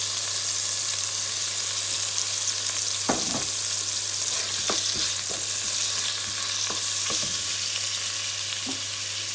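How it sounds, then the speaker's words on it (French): Sauce poured into a hot pan with meat sizzles loudly and steadily throughout, broken by several scraping, clanking stirs of a utensil against the pan while the placali-and-okra dish cooks. "Je vais ajouter un peu de sauce."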